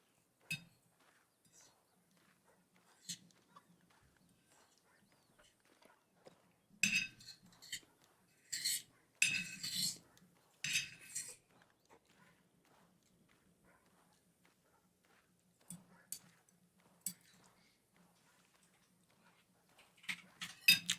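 Metal cutlery clinks and scrapes against a plate while someone eats steak pie with mash. The clinks are light and sparse, with a busier cluster of sharper taps partway through and a quiet background between them.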